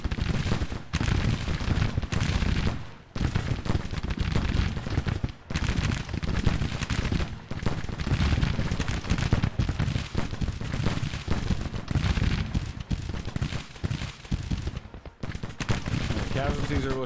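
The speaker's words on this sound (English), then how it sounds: "Look at all of that concentrated fire." Musket volleys from a Civil War battle in the game GTCW, continuous and dense, crackling rolls of gunfire filling the whole stretch with only a few brief dips.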